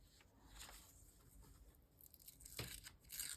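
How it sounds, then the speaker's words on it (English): Book paper is torn along a page edge in a few short, soft ripping bursts with quiet rustling between, close and faint, no voices. "I'm going to tear off the edge"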